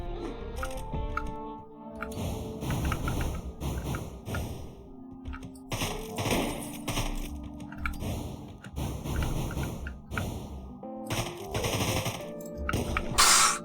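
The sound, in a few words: gunfire in the video game Deadbolt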